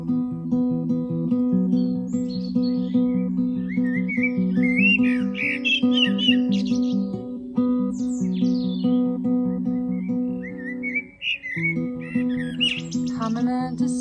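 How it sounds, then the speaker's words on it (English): Birds sing and chirp in a garden, bright scattered calls above a steady sustained musical tone, fairly close and continuous throughout. "we've got the birds singing. We're in the garden."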